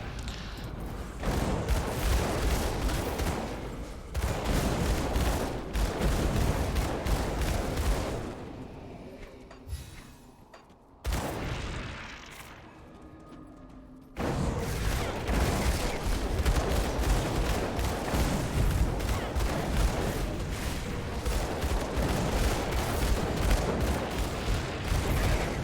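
Dual pistols fire in the action RPG Grim Dawn, loud dense rapid bursts of gunshots with booming impacts, broken by a short quieter pause before the barrage resumes.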